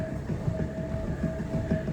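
A treadmill runs at a 3 mph walking pace with a steady motor hum and a soft, rhythmic thump of footfalls, close and continuous.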